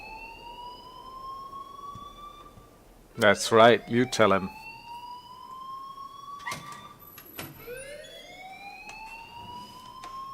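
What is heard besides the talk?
alarm ringing in Life is Strange video game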